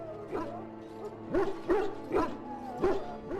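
A dog in the fantasy video game Dragon Age: Origins gives a series of about five short barks and yips at an uneven pace, moderately loud and close, with a faint low hum underneath.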